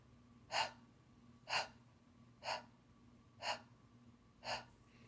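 Five evenly spaced, sharp breath pants about a second apart during a singing breathing exercise centered on the upper belly, each a short airy burst, close and clear against a quiet room hum.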